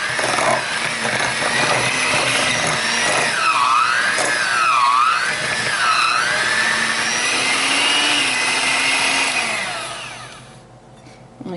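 An electric mixer with beaters whirs loudly and steadily, its pitch dipping and rising as the load changes, before it winds down and cuts off near the end.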